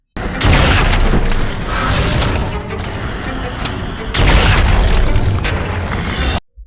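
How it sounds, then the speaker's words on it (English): An elephant gun, a powerful one-shot rifle in the Van Helsing video game, fires two loud, heavy booming shots about four seconds apart, each with a long rumbling tail and no voices. "you'll unlock the elephant gun weapon. It's an incredibly powerful one-shot rifle that's offset by a slow reload"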